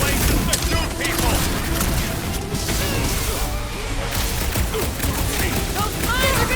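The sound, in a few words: gunfire in battle, from the video game Marvel's Guardians of the Galaxy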